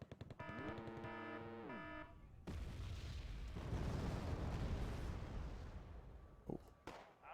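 Rocket explosions in the war game Wargame AirLand Battle, with a loud sustained broadband blast and rumbling roar after a brief tonal sound, then a couple of sharp pops near the end.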